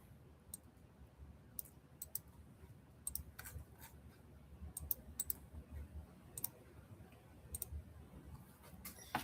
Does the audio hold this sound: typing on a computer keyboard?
yes